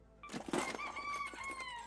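A chicken in the video game Keeping Speranza Safe gives a short burst of clucks that runs into a sustained crowing call, close and moderately loud.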